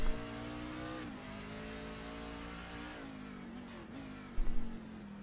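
Race trucks roar around the Chicago street course on the final lap, engines droning steadily with shifting pitch, then a brief louder burst near the end.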